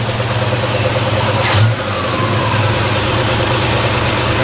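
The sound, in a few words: 1960s Ford Galaxie engine idling after vacuum canister fix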